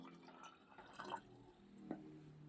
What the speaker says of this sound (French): Je vais tester en mettant un peu d'eau dedans